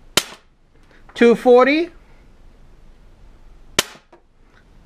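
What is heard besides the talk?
shots from a low-power gun over a chronograph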